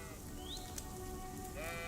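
Sheep bleat in the open countryside of Kingdom Come Deliverance II, a short wavering call rising near the start and another at the end, set over a steady hiss like light rain.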